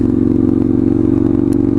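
Straight-piped motorcycle accelerating hard, a loud, close, raspy engine drone with rapid crackling firing pulses holding steady throughout, no talk over it.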